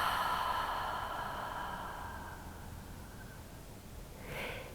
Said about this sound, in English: And then exhale.